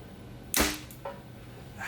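A Mathews V3X 33 compound bow drawn to 70 pounds at 30 inches looses a 350 grain arrow: one sharp, close snap and whoosh, then a brief fainter thump as it lands, with no talk.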